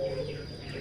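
Puter pelung turtledoves cooing softly in a cage in a small indoor breeding setup, a brief low murmur with a steady hum behind it.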